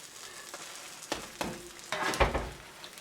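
A brie and blueberry grilled cheese sandwich fries in a pan with a soft, steady sizzle. A few louder crackles and bursts rise near the end, with no voices.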